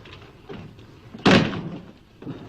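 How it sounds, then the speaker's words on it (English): A door is pushed shut with one loud, solid slam, preceded and followed by faint rustling and shuffling. "Close the door."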